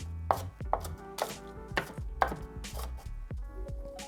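A knife dices vegetables for vegan tacos on a cutting board, sharp chops that land in an uneven rhythm, close and loud, with no voices.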